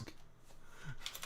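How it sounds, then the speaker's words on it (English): Keys clack briefly on a computer keyboard, a few quiet, close taps with a slightly louder burst at the end, over a faint background murmur. "The reason why I'm typing, you may ask?"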